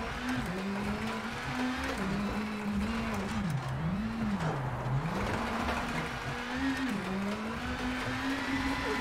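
Rally car in WRC 8 driving off the road into a field, a steady engine drone rising and falling in pitch as the throttle changes, with gravel and road noise underneath.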